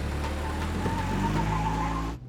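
A car engine drones loud and close as the vehicle pulls away, with a rising rumble that cuts off abruptly at the end.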